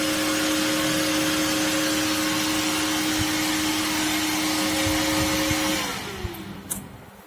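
A small electric fan running from a phone charger boosted to 12V, a steady motor whine with a constant tone that slows and drops in pitch as it spins down, then soft clicks and handling noises.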